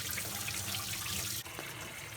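A squid is rubbed and rinsed by hand under a running tap, a steady wash of water with a brief break and a quiet splash near the end.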